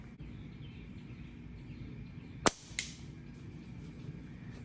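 An aviation aluminum flat slingshot is shot at a target outdoors: a single sharp crack of the release and impact, followed a moment later by a smaller second snap, over steady outdoor background noise with faint bird chirps.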